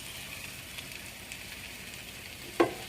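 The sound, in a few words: vegetables frying in oil in a deep pot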